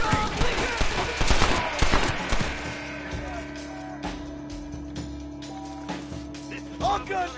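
A gunfight in the Red Dead Redemption video game, with a dense burst of rapid gunshots up front, then scattered single shots and a later flurry over a humming backdrop. Voices are heard during the exchange.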